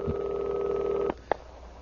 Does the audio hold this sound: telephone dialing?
yes